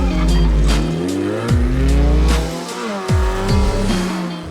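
Race cars at the Philippine Autocross Championship at Parklinks Estate: loud, close engines rev and shift through sweeping pitch changes, with tire squeals mixed in over continuous motor noise.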